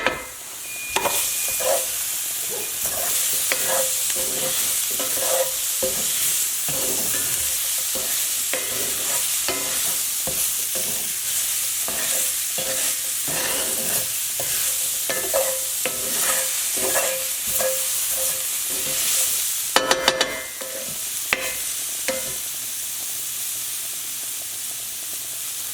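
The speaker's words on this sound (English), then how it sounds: "Take your spoon or whatever you're using to mix everything together." Spoon stirring steak and Brussels sprouts with ginger in a hot pan, a steady loud sizzle with repeated scraping strokes throughout and a brief clatter near the end, no talking.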